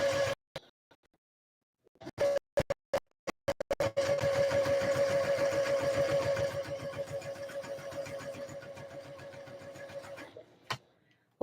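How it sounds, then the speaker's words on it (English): An embroidery machine runs at a steady fast stitching rhythm with a constant hum. It starts after a few scattered clicks and knocks and holds for several seconds before slowing and stopping, close and fairly loud, with no talking. "I'll go to my embroidery machine"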